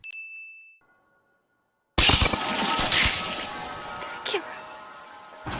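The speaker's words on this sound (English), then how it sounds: "The scene shatters" An anime scene shattering like glass: after a second of near silence, a loud crash of breaking glass bursts in, followed by scattered tinkling shards and ringing debris.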